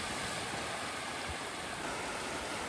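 Sea washing up the sand at Shanklin beach on the Isle of Wight, a steady broadband rush of surf and wind with no distinct breaking waves, continuous and even throughout.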